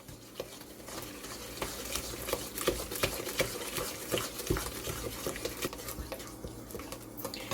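Sugars are being stirred together for banana streusel muffins, with a quiet scraping and patter of mixing plus irregular light clinks from the bowl and utensil.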